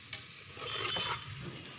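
A spatula stirs finely chopped ginger into broiler chicken frying in a pan, giving a short scraping stir over a soft sizzle, close and fairly quiet, with no talking.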